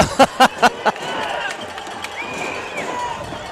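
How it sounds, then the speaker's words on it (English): Wayne County football fans stomp in the stands during a high school game against George County, giving four loud, evenly spaced thumps that fade into a steady crowd murmur. "Wayne County's faithful are stomping and making noise over here and rooting their team on"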